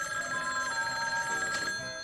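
A telephone bell rings in a brief, steady burst at moderate volume, with no voices over it.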